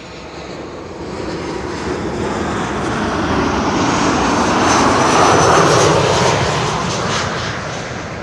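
Aircraft engine roar of a plane on approach to Schiphol, landing on runway 36 right, a steady broadband rumble that swells as it nears, peaks loud, then begins to fade.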